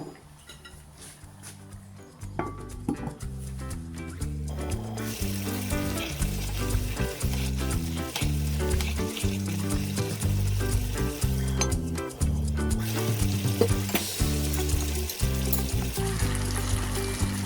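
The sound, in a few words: meat pie filling sizzling and steaming in covered pan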